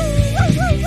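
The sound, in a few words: robot toy dog barking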